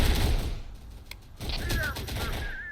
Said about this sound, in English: And the vehicles are now firing back.